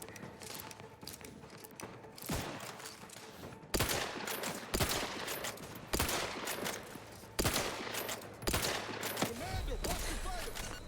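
Bursts of gunfire in The Outer Worlds 2 crack out in rapid volleys, several sharp loud shots punctuating a busy combat din over about ten seconds.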